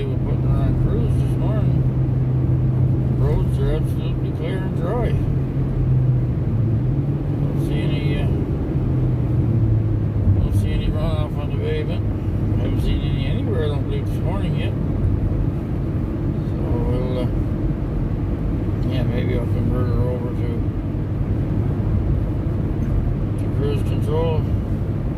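Steady interior road rumble of a car on a morning commute, a continuous low engine and tyre drone under frequent talking from the driver.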